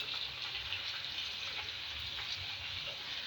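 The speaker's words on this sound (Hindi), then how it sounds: "हमारा प्याज फ्राई हो रहा है" Onions with garlic-ginger paste sizzle and fry steadily in a pan, a continuous close hiss with no talking.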